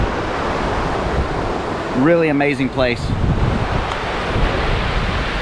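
Whitewater rapids on the Obed River roar steadily up close, blended with wind buffeting the microphone, while someone speaks briefly over the rushing water.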